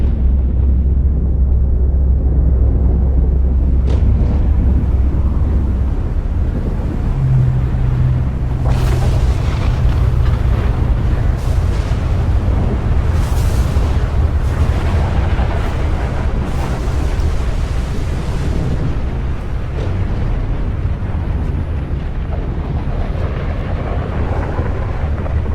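A storm rumbles in Stalker Gamma, with deep continuous thunder and booming blasts that roll on for the whole stretch. Bursts of sharper crackling land over the low roar, and nobody speaks.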